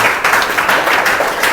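A classroom of students bursts into loud applause for a correct answer in a tenth-grade maths lesson, dense overlapping claps sustained throughout at close range.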